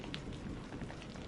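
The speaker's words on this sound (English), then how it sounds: "heavy splats against the glass, like thrown pebbles" Heavy raindrops splatting against the window glass of an old station during a storm, a dense continuous patter with no voices.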